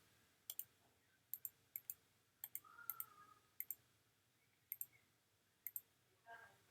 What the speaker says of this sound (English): Let me double click back on this purple color